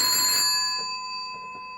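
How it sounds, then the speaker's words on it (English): Telephone ringing after extension 23 is dialled from another phone, a bright electronic ring tone fading out, followed by faint tapping sounds nearby. "Does it ring itself when I ring another phone?"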